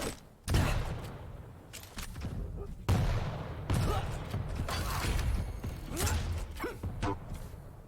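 Rocket launcher blasts and explosions in the video game Quake during a Quake Pro League match, punchy detonations in quick succession mixed with mechanical clanks and movement sounds, mostly without talk.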